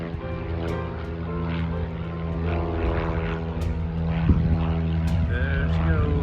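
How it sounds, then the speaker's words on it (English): Propeller plane climbing away from an airfield, its steady engine drone and harmonic whine holding throughout at moderate distance, rising slightly in loudness. "See the planes going up."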